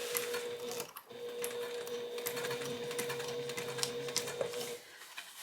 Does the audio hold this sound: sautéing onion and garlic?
no